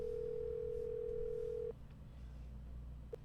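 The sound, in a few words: telephone line tone in Nancy Drew video game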